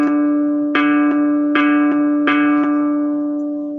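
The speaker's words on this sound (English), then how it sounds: "That is the sound of a D right there," A sustained musical D3 note for pitch training, repeated with several soft re-attacks and slowly decaying, clear and close with no voices.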